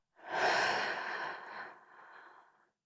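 A long, deep exhale during a guided breathing exercise, a breathy rush of air lasting over two seconds that fades out gradually, heard close and alone.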